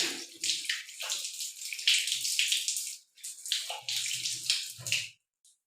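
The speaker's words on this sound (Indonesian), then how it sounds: "saya izin ya Bu untuk melakukan cuci tangan sesuai dengan standar WHO" Hands washed under a running tap to the WHO standard: steady splashing water in bursts with brief pauses and a short stop near the end, close and fairly quiet, without talk.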